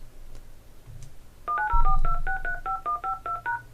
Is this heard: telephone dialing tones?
yes